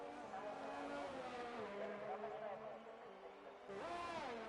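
A McLaren F1 car in the F1 2019 racing game howls past at the Australia round, its engine note rising and falling through gear changes with a second car sweeping in, under continuous commentary.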